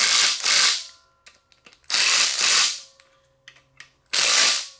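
A compact impact gun drives ARP bolts on an aluminum small-bore stroker engine, firing three loud, sustained hammering bursts separated by short gaps filled with faint clicks and handling noises.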